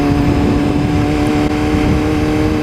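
A motorcycle engine pulls steadily in second gear on a rider's first outing, a loud, continuous harmonic drone that holds close and constant without a break.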